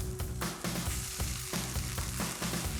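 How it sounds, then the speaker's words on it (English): Turkey mince sizzles steadily in a hot pan, a dense close crackle with a few brief scraping stirs breaking the texture, no voices. "We're going to add the turkey mince back into the pan."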